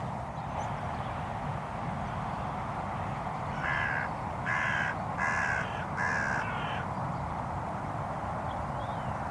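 Hooded crows cawing in the early morning, a rhythmic series of four harsh caws at mid distance, rising out of a steady low outdoor rumble and then fading back to quiet.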